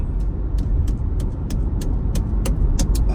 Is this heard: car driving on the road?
yes